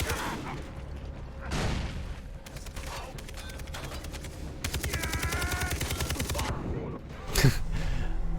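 Rapid gunfire rattles through a Far Cry 3 firefight on Rook Island. Bursts of automatic shots and single reports come up close and loud, with mechanical clicks and game effects between them and a player's voice talking over the action.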